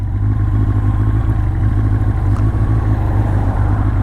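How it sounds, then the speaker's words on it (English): A 1984 Honda CB700 SC Nighthawk S motorcycle engine idling high with a steady, loud, close rumble and a faint mechanical clatter throughout, no voices. "The idle on this bike is set very high, so I need to adjust the idle."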